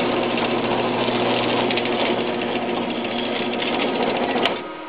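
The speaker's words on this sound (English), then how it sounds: "I don't know why that chain drive makes so much noise, but it does." A chain drive garage door opener runs loud and steady, a continuous mechanical whir with a rattling chain texture that carries on for several seconds before a brief click and drop in level near the end.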